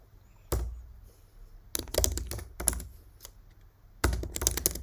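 Typing on a computer keyboard at a desk, close crisp key clicks arriving in short bursts separated by brief pauses, with no voice over them.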